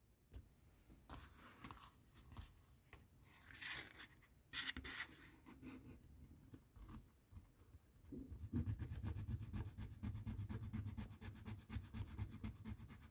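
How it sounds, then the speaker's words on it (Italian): A hand file rasps at the plastic injection point on a front-wing part of a 1/8 Ferrari 312 T4 model, with repeated close scraping strokes that become a steadier, denser rubbing in the second half. "devo prendere proprio la lima"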